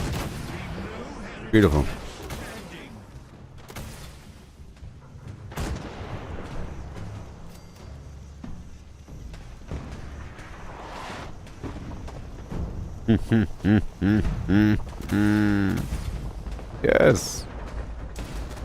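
Artillery blasts and Nuka grenade explosions in Fallout 76, with repeated booming hits and a dense burst of rapid explosions near the end, under a player's occasional remarks.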